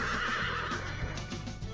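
A horse neighs loudly while being ridden, a drawn-out whinny over a busy rumbling background with some hoof thuds, no talk.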